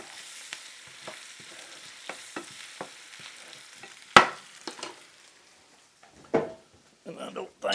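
Potatoes fry in butter in a pan, a soft sizzle broken by scraping and stirring clatters and a sharp knock, while a person talks over the cooking.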